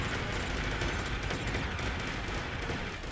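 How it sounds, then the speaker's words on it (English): Continuous, dense machine gun fire from the video game Armored Core 4 rattles without pause, loud and relentless, forming an unbroken barrage with no voices over it. "that's why I'm unleashing fire here with the machine guns"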